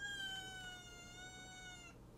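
A house cat gives one long, drawn-out meow that slides slowly downward in pitch, close and clear over a low steady hum, then stops, leaving only faint room noise.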